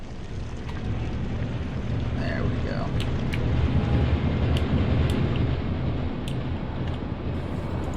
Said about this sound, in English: Get our diesel engines running